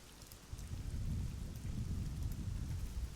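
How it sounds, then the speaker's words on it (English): Thunder rolls through a rainy Neverwinter Nights game scene, a low continuous rumble building and sustained over steady rain, fairly loud with no talk. "Ooh, thunder."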